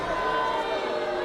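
A women's wrestling crowd reacting to Chrissy Vane choking her opponent in the ring: a steady roar of voices filling the arena, with a commentator talking over it.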